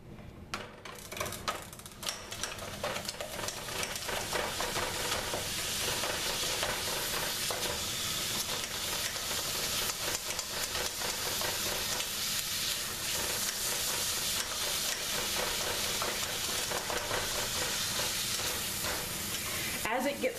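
Ground meat sizzles and is stirred and mashed in a pot while queso dip is cooked, a dense, continuous crackling fry with the scrape of a utensil over it, loud and steady throughout.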